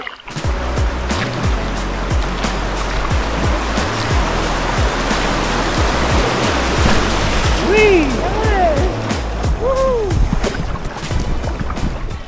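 A canoe paddles along the Wied river in the Westerwald, with a constant rush of moving water and regular strokes. A few high chirps come in partway through.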